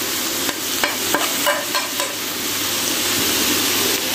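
A pan of green bean and mince curry sizzles loudly as spices go in, a constant hiss broken by several spoon taps and stirring scrapes, close with no talking.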